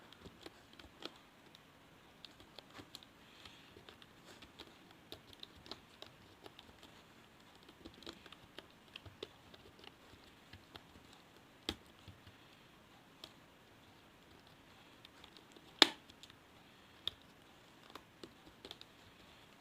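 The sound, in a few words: typing the word 'upon' on a computer keyboard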